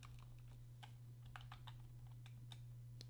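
Keystrokes on a computer keyboard entering an account number into a database form, a quick irregular run of light clicks over a steady low hum, with no talking.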